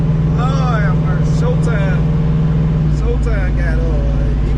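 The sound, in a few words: Chevrolet S10 truck engine pulling while driving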